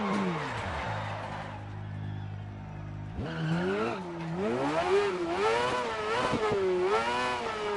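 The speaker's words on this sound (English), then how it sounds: "We just blew a tire." Car tires skid and squeal after a blowout during a rally stage in the Dirt Rally 2.0 video game, with a steady engine drone giving way to loud, wavering screeches under the revving.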